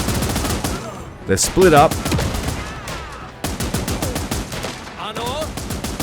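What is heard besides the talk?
machine gun firing in the video game Last Train Home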